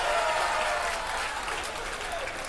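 A darts crowd at the 2016 BDO World Darts Championship applauding, a dense steady wash of clapping that tapers slightly, with a commentator's voice over it.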